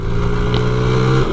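A 1993 Honda Z50R mini motorcycle pulls up a hill with a rider aboard, its small engine buzzing loud and close at steady revs, then dipping briefly near the end.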